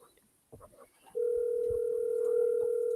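A telephone call rings out: after brief faint sounds, a steady electronic tone starts and holds continuously, loud and close, like a line tone on the handset.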